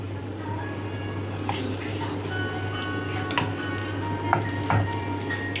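Floured sardines fry in a pan with a little hot oil, giving a steady close sizzle with scattered small pops and crackles over a low background hum.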